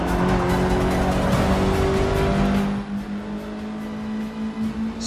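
A race car in Forza Motorsport 6 brakes hard into a corner, its loud engine note dropping and shifting over a few seconds with hints of tyre squeal, then settling into a lower, fluttering tone.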